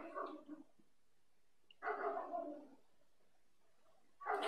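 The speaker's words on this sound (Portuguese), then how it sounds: "Olha o cachorro." A dog barks in three separate bursts, close and fairly loud, with quiet gaps between them.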